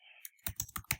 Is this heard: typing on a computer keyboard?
yes